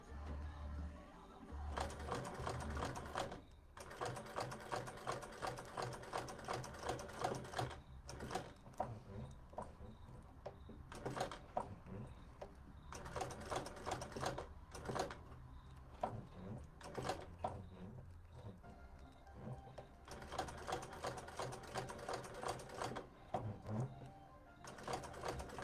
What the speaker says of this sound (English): we're going to top stitch this so it's all neat and tidy